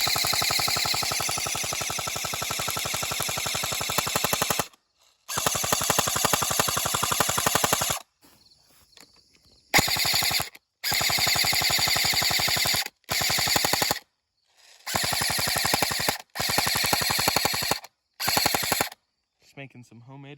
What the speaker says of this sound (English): Flick it off safe, and we're gonna see how much damage this does to these apples.